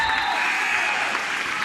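A loud crowd at a high school state playoff basketball road game applauds a made free throw, a dense steady wash of clapping and cheering filling the whole moment.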